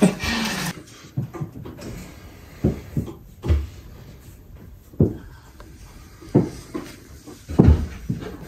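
Fridge doors on an IKEA kitchen unit are opened and handled, giving a series of separate thumps, clunks and knocks at uneven intervals, close by, with quiet rustling between them.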